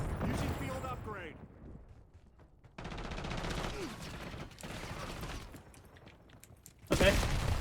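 Gunfire and mechanical weapon sounds from the Call of Duty Black Ops 7 video game in multiplayer, heard in loud bursts with a heavy blast near the end, with a player talking over the action.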